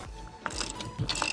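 A ratchet wrench clicks in short bursts while car tires are changed outdoors, quick metallic ratcheting strokes sounding close and fairly quiet, with no talking.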